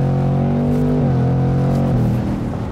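A 2024 Ford Mustang GT V8 with its exhaust opened roars loudly and steadily up close, its pitch dropping twice as the gears are downshifted under full throttle, with no talking.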